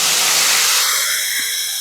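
Methi and palak greens hit a hot cumin tempering with a loud burst of sizzling hiss that is sharp at first, then softens and settles within a second or two.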